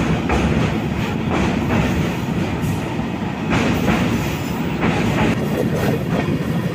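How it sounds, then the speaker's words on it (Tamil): An Amrit Bharat Express train on its inaugural run from Malda Town roars along steadily, with loud, constant wheel and rail rumble and faint rhythmic clatter, heard from inside the moving train with no voices. "இன்னைக்கு நம்ம அம்ரித் பாரத் எக்ஸ்பிரஸில் இனாகரல் ரன்னு சூப்பராக போய்கிட்டு இருக்கு"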